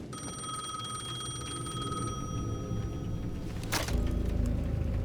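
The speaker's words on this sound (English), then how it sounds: "The payphone at the edge of the plaza was ringing again." A payphone at the edge of a plaza rings in the video game Alan Wake 2, a shrill, sustained electronic bell tone that stops abruptly, followed by a sharp click and low rumbling ambience.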